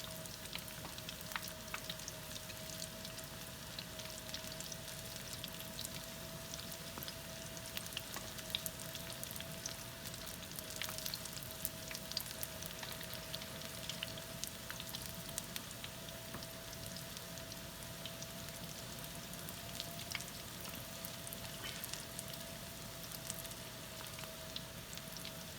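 Cheese-filled snacks fry in hot oil, a continuous faint sizzle with scattered crackling pops and a steady hum beneath, no voices.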